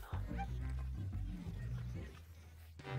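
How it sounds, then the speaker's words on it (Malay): A pet dog in a home kitchen yips and whimpers in short, pitched bursts, close to the microphone, with brief gaps between the cries and a sharper yelp near the end. "Dan apa ini? Anjing kita Chloe"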